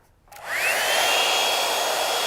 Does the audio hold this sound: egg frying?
no